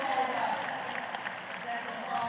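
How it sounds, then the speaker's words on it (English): A stadium crowd at a track meet roars and applauds after a men's 110m hurdles race, a broad continuous wash of cheering and clapping, while a commentator talks over it. "Listen to that crowd."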